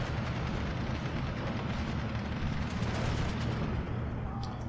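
Artillery pieces shell a forest in the video game Steel Division 2, a dense, continuous rumble of distant explosions and gunfire rolling on steadily throughout, with no clear separate blasts.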